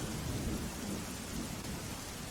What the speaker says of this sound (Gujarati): તો ડાંગમાં ભારે વરસાદ પડી રહ્યો છે